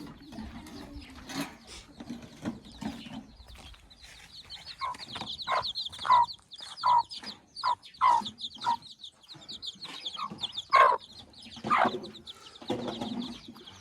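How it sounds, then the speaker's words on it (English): Chickens cluck and a single rooster calls in an African village yard, with repeated close, loud bursts of clucking over a background of fainter birds. "we only have one male chicken, one cock, just one"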